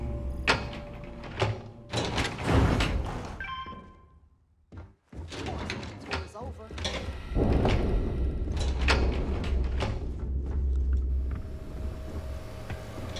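Heavy cargo bay doors in the video game Starfield give a series of loud mechanical thunks, slams and sliding clanks, with a short quiet gap midway before the clattering resumes and continues steadily.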